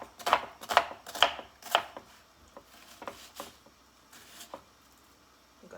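A knife chops through a medium onion on a board in a home kitchen, four sharp close strokes followed by several softer, spaced cuts.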